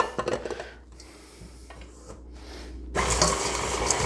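Stand mixer with a beater paddle churning a topping of brown sugar, butter, pecans and flour, a steady motor whir with clanking bursts early on, growing louder and brighter toward the end.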